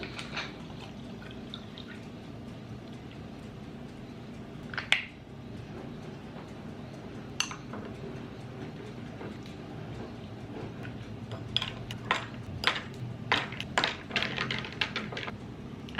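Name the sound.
ice being put into a glass with a drink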